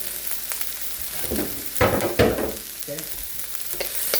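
Onions and imitation crab meat sauté in a pan for bacon fried rice, a soft continuous sizzle broken by a few louder stirring scrapes and clatters near the middle.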